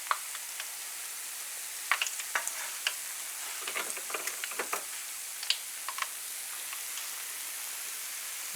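Bangamary fish frying in a pan, a steady bright sizzle throughout with scattered sharp crackles and pops, close and moderately loud, no talking.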